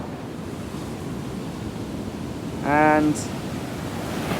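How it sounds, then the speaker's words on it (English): Rough sea surf breaking on a beach in Sri Lanka, a steady broad wash of waves and wind throughout, with a brief voice cutting in near the end. "the sea around Sri Lanka has been so rough, like you wouldn't want to get into it"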